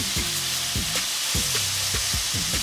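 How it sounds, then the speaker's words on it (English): Bacon renders its fat in cayenne-infused olive oil over medium-high heat, a constant loud crackling sizzle with low knocks and scrapes from a utensil, close up and without talk. "I got this on a medium-high heat to render the fat out this bacon real quick"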